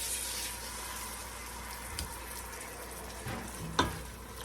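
Hot pasta sauce is stirred into cooked pasta in the pasta pot over low heat: a soft steady sizzle with a few faint scrapes and knocks of the spoon against the pot, no talking.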